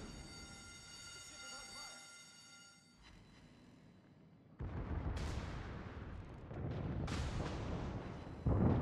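Naval guns firing in the video game World of Warships, heavy booming salvos and rumbling blasts that swell louder in the second half, with a final loud burst near the end.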